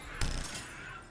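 A single sharp crack in the video game Mass Effect 3, as glass shatters under gunfire, gives way to a brief, bright ring of breaking shards over a steady game backdrop.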